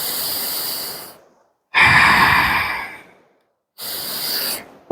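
Deep yoga breaths during a core practice come in three long, close airy pulses, each a full inhale or exhale separated by short silences.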